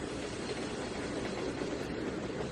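A train from the simulator Trainz 2019 rolls along as a steady, moderately loud rumbling drone with a continuous mechanical hum, alone and without talk.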